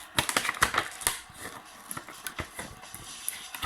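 Cardboard packaging of a Terminator T800 endoskeleton figure being opened by hand: a quick, irregular run of crisp clicks, taps and rustles, close up, dense at first and then thinning out, with no speech.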